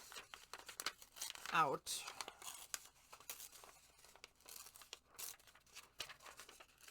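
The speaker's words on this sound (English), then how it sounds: "I'm going to tear this" Paper being torn out of a paper board in a single quick rip with crinkling, close and fairly loud, set amid a person's talk.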